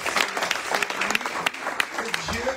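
An audience claps for Pastor Daniel at a church inauguration, with sustained applause from a crowd throughout and voices talking over it.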